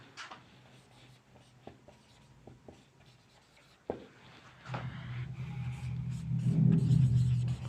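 A teacher's marker or chalk writes in short taps and strokes during a lesson, thin and intermittent at first, then a louder low rumble of passing traffic swells in the background toward the end.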